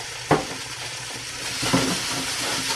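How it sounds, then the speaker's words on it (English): Homemade dip stirred in a hot pan: a spoon scrapes and knocks against the pan over a constant sizzling hiss, with a couple of louder stirring strokes, close up and without talk. "I'm going to mix this around a little bit."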